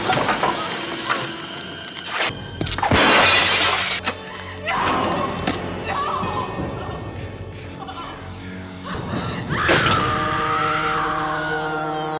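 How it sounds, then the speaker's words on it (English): A mirror shattered by a punch in the 1989 film Friday the 13th Part VIII: Jason Takes Manhattan: a sudden loud crash of breaking glass around the middle, set amid film music and dialogue, with a second crashing burst later. "He walks over to the mirror and he punches it to break the mirror to grab a glass shard"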